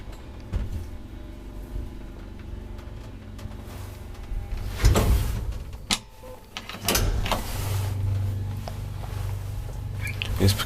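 An old Kone traction elevator in a Helsinki apartment building runs with a steady low hum, broken by clunks and mechanical thumps from doors and machinery.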